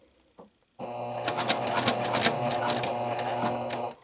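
Sewing machine stitching a corner for a faux-button Velcro closure, starting after a brief tap and then running steadily for about three seconds with a rapid mechanical clatter, close and loud.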